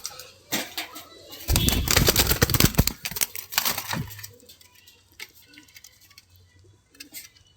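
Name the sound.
female satin pigeon and male muthina pigeon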